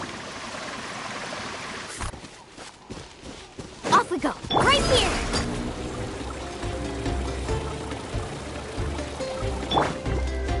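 A surfboard rushes and splashes over water in Genshin Impact, with swelling watery surges and occasional chimes, while a voice speaks briefly over it.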